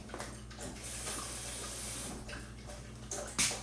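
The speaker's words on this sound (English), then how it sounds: "I am going to add just a little bit of water." Water pours into a protein shake in a continuous hissing, splashing stream lasting a few seconds, close and fairly quiet, with a brief louder gush near the end.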